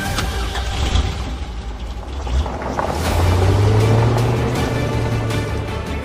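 Grandpa's car in a cartoon drives off towing a container, a mid-pitched engine rumble swelling and holding steady over rattling, scraping noise, fairly close and loud.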